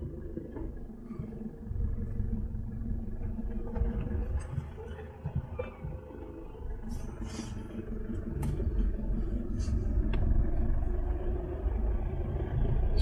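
A 4x4 on a bush track crawls in low range over a log, its engine rumbling low and steady throughout with rising effort toward the end and occasional knocks and scrapes from the underside.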